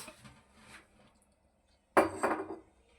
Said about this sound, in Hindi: एक प्याली ये चीनी की भरी हुई डाल देनी है।